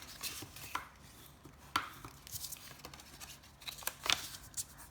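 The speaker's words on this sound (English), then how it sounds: "So now we're just going to fold and burnish or crease all of our folding" Scored paper being folded and creased by hand, with a series of close, sharp crinkling and scraping strokes at uneven intervals, some louder bursts standing out over a quiet room.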